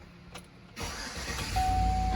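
A car engine starts after the brake pedal has been pumped. A short quiet stretch comes first, then the engine catches and settles into a loud, steady, close idle.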